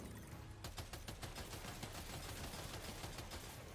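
Rapid gunfire from the video game Death Stranding 2, a dense, continuous burst of repeated shots that runs through the whole stretch, loud and sustained, with no talking over it.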